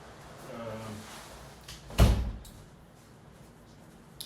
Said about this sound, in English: Look, I'm gonna close the door.